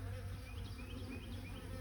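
Honeybees in a backyard hive set a steady, continuous buzz that stays faint and even throughout, with a few higher whining passes over a low hum and no talking.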